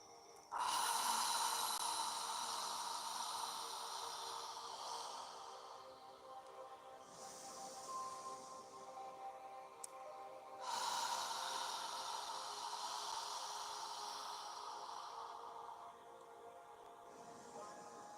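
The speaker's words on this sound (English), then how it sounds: "Inhale and exhale as you need to." Slow, deep yoga breaths, long audible inhales and exhales through the nose, repeat in a calm rhythm, close and soft with no talk.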